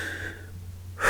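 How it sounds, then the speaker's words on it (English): A reader performing a single deep breath: a soft, airy inhale that fades into quiet, followed by a sudden, louder rush of breath at the very end, close and alone with no talking. "Octavia took a deep breath."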